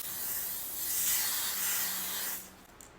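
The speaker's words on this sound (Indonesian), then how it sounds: "kalau sunscreen spray ini udah pasti kita coba di atas full makeup" A sunscreen spray is misted over a fully made-up face in a steady, close hiss lasting a couple of seconds before it cuts off.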